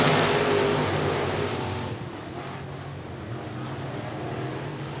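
Dirt track race cars roaring off the start of a heat race at a speedway: a loud, broad engine roar that swells at first, then settles into a sustained, somewhat distant rumble.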